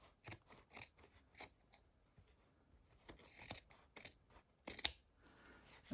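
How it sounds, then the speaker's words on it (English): Scissors snip through the edges of a fabric and felt collage in a series of close, crisp cuts, some quick in succession and others spaced apart, with soft rustling of material between. "you can take your rotary wheel or a scissor and cut the edges clean"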